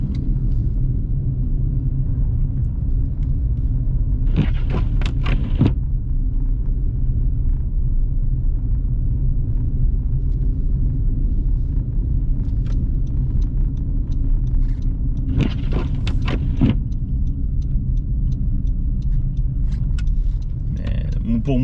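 Steady low rumble of a car rolling along a slippery, unsalted snow-covered road on Montreal's south shore, with a few brief crackling bursts of slush or tire noise around the middle and end, continuous and fairly close.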